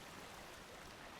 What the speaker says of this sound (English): These waves are pretty hectic at the moment. They are really, really big.